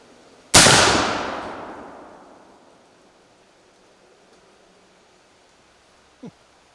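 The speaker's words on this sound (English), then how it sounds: "that 50 caliber slug vaporized that juice container" A single loud, close blast from a Springfield Model 1871 rolling block rifle firing a .50 caliber slug at a fruit punch jug outdoors. A sharp crack is followed by a long rumbling decay, then a faint brief knock near the end.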